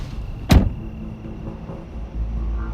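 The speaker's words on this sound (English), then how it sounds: "So I climb out of the car." A sharp car door slam stands out near the start, loud and close, then gives way to a low steady rumble as someone climbs out of the car.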